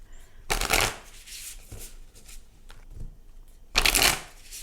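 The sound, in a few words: shuffling a deck of animal spirit cards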